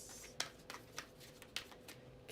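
Tarot cards are shuffled by hand in a soft, quiet series of papery slaps and riffles at irregular intervals, close up, with no talking.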